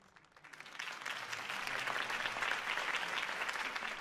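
Crowd applause follows a campaign speech in Batman: The Telltale Series, swelling from a few scattered claps into steady, full clapping that carries on to the end.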